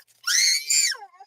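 A child lets out a shrill scream in two close bursts, loud and near, trailing off into a brief whine.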